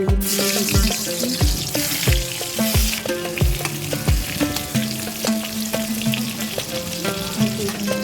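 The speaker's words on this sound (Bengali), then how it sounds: "বেগুনগুলো ভেজে নিচ্ছি" Eggplant pieces fry in oil with a busy, close sizzle, while repeated clinks and taps of metal utensils ring out over the steady hiss throughout.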